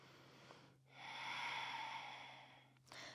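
A single long, soft breath in a yoga pose, a quiet airy rush that swells and fades over about two seconds, close but faint against a low steady hum.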